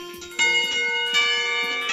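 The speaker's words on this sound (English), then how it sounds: "the bell rings" A school bell in the visual novel Katawa Shoujo rings out loud and clear, a sustained metallic tone with bright overtones that strikes again partway through and keeps sounding on its own.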